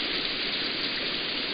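Steady, dense rain in the Katawa Shoujo game, a constant close hiss of falling water on surfaces with no breaks and no voices.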